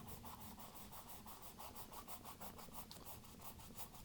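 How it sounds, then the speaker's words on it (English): A dry paintbrush with oil paint scrapes back and forth across canvas in a steady, rhythmic series of close, rasping strokes, each about a quarter second long. No one speaks over it. "I'm really kind of scraping this along on the canvas"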